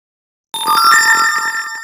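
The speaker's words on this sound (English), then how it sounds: "we got the notification from the Firebase" A phone's push-notification chime from Firebase in a Flutter app, a bright tonal ringtone-like melody that starts abruptly after half a second of silence and rings on steadily and clearly, with no talking.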